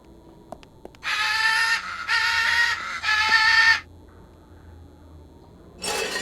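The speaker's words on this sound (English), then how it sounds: "A birdcage inhabited by a very lively parrot." A very lively parrot in a birdcage in the game Secret Files 2 lets out three loud harsh screeches in a row, then a fourth after a short pause.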